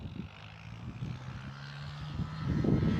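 Jetstar flight 445 bound for Melbourne, an A321neo-type airliner at Gold Coast Airport, rumbles as a steady engine roar that swells louder toward the end, heard from an outdoor spotting position.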